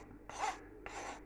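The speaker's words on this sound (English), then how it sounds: "We'll just use that spoon to scrape it off there like that" Two close, rasping strokes as a spoon scrapes thick elderberry sauce from the bottom of a sieve, each a short scratchy burst with a pause between.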